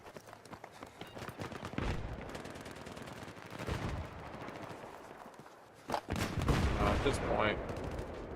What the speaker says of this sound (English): I can hear the shotgun